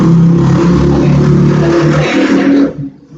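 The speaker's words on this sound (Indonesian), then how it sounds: "banyak banget suara mobil lewat sama motor lewat di depan" Vehicles passing outside a podcast studio: a loud, close engine rumble rising and holding for a couple of seconds, then fading away.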